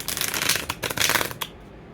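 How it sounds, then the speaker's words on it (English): A deck of playing cards shuffled clumsily by hand at close range during a card game, giving two bursts of dense riffling and flapping, the second ending in a few sharp snaps before quiet. "I'm gonna do my awkward shuffle"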